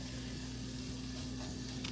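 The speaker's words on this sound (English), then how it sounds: "I'm heating up some chicken that I prepped earlier to go into the pasta" Chicken reheats in a Hexclad pan with a steady, close sizzle and soft frying crackle, continuous and even throughout with no talking.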